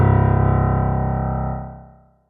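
A single low C1 note struck on a piano, a deep sustained bass tone that rings steadily for about a second and a half before fading out, heard alone with no talking.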